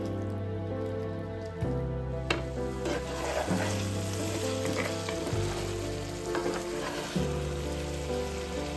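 Butter garlic chicken sizzles in a hot pan while a utensil stirs it, scraping and clinking now and then over a steady frying crackle, near and fairly soft.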